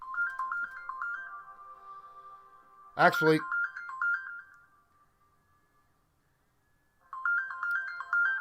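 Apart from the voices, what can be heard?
phone ringtone of an incoming call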